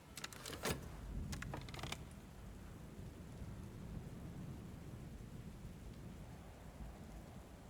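Stormy weather rumbles through Book of Hours as a steady, low wash of rain and wind, with a few sharp crackling bursts at the start before settling into continuous ambience.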